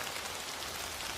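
Steady rain in the Sakura School Simulator game, a dense, even hiss of falling drops that fills the whole moment at constant loudness, with no voice.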